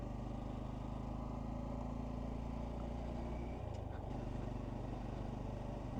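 A Honda Trail 125 motorcycle rides through the night toward Cox Park in Louisville, Kentucky, its engine droning steadily up close, with a shift in pitch partway through.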